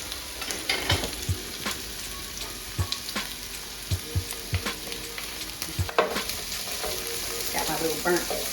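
Chopped onion and crushed garlic sizzle in a pan on medium heat, a steady hiss broken by sharp scrapes and taps of a burnt wooden-handled utensil stirring the mix, close and clear with no talking.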